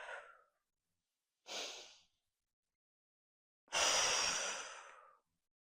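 Three breaths during a seated exercise session, a short exhale, then a brief inhale, then a longer, louder exhale, each close to the microphone with silence between.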